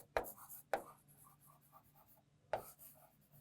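A pen writes on paper up close, with three sharp tap-like strokes and soft scratchy scribbling between them, quiet and intermittent.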